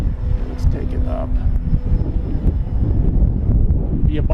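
An FMS Pitts V2 1400mm RC biplane flies in gusty wind, its motor a faint buzz almost buried under loud, rumbling wind buffeting the microphone throughout.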